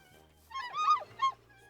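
A swan from a Minecraft exotic birds mod gives two honking calls, a longer one then a short one, clear and close against near silence.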